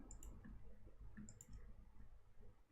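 A few sharp computer mouse clicks in two small clusters during a Minecraft session, close and quiet over faint background hum, with no talking.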